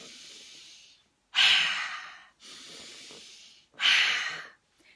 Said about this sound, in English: so you can use different levels of ferocity within the breathing